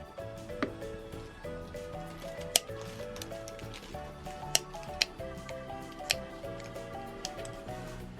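Scissors snip into sweet bread dough before baking, with a few sharp, sparse cuts over a background of faint music and quiet kitchen noise.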